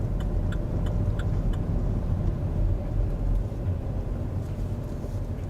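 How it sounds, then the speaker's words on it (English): A car on a driving lesson, held back in a lower gear, gives a steady low engine and road rumble, with light rhythmic ticking clicks over it and no talking. "So you've then got the engine brake in here as well."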